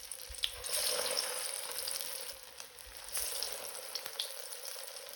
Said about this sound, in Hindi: तेल गर्म हो गया, इसके अंदर मैं अब अपनी कबाब एक एक करके डाल दूँगी।